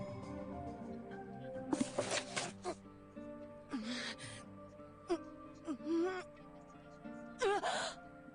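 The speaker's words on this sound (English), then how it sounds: "Gasp." A Granblue Fantasy character jolts awake from a nightmare with a sharp voiced gasp, then shaky breaths and moaning sighs come in several separate bursts over a quiet backdrop.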